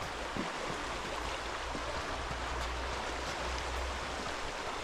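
Steady broadband rush of a stream of water running beside a muddy trail, continuous and fairly close, with no talking.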